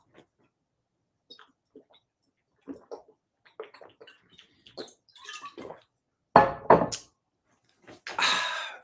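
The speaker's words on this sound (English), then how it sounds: "Sip me some of this water." Water sipped from a cup, a few soft slurping sips and gulps close to the mic in an otherwise quiet room, ending in a louder satisfied exhale.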